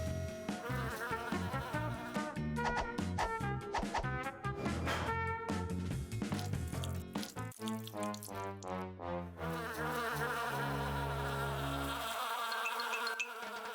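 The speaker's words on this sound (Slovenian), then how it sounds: "Oh, ne, čebele." Dense cartoon-style buzzing from a swarm of bees, loud and continuous over layered musical tones, without any speech.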